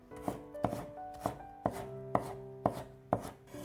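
A knife chops fresh ginger into thin shreds on a cutting board with seven crisp, evenly spaced knocks, close and fairly quiet, with no voices.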